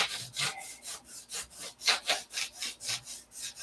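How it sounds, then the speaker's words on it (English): Rhythmic back-and-forth sanding strokes on balsa wood at a workbench, about a dozen even scratchy passes, close and moderately loud with no talking. "where I'm sanding this right now"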